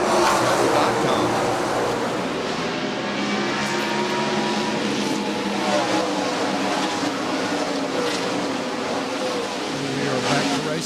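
NASCAR stock cars race at Darlington Raceway, a continuous loud engine drone under steady commentary.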